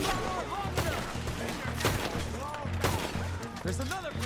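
Semi-automatic gunfire in the video game Red Dead Redemption 2, several sharp shots in quick, irregular succession over game music and ambience, with voices talking throughout.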